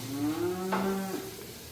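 A one-year-old cow gives a single long, rising and falling moo, loud and close, against a faint low background hum.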